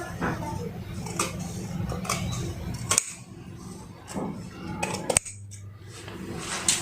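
Scissors snip through fabric while cutting kameez sleeves, a series of close, crisp clicks and slicing strokes with a sharp snap near the end, over faint room noise and no talk.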